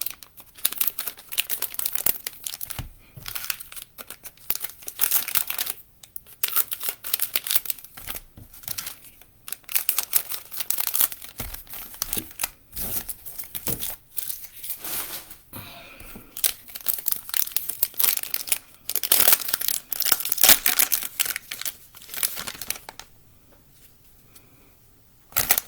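Cello-wrapped football card packs being torn open and crinkled, a long stretch of close, loud rustling, ripping and crumpling plastic with brief pauses between bursts.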